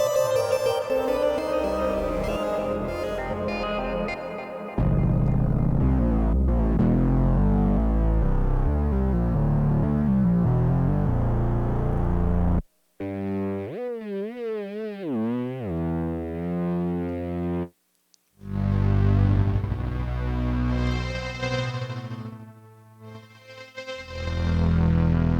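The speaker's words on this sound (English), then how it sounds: "Again, coming from the virtual string machine" Virtual string machine synth chords play in Bitwig, sustained and distorted with effects. The sound breaks into warbling modulated tones midway, cuts out briefly twice, then returns as layered chords, with no voices.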